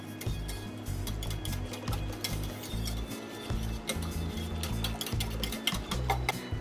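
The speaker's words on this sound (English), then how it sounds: "Beat with a whisk" A whisk beats a liquid pumpkin pie spice mixture for a slow cooker pumpkin spice latte, making quick repeated clinking and scraping strokes against the bowl in a fairly quiet, close, continuous run.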